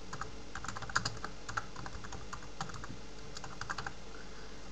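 Rapid, irregular clicking of keys on a computer keyboard as a search term is entered, close and fairly quiet over a steady background hum.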